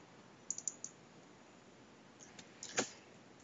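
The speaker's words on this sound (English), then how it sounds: "you look for the webcam icon on your desktop and you click on it." Computer mouse clicks on a desktop icon: a few quick, light clicks, then a short pause and another small cluster of clicks, close and faint against quiet background hiss.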